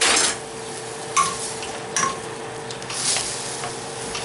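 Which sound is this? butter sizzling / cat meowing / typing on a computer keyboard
butter sizzling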